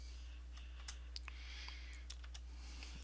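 Measurements being typed on a computer keyboard, a scatter of faint, quick key clicks at an uneven pace over a low steady hum.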